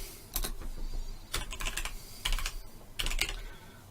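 Typing on a computer keyboard while writing HTML, with four short clustered bursts of crisp key clicks separated by brief pauses.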